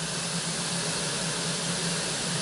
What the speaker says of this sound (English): my pot is beginning to start to steam a little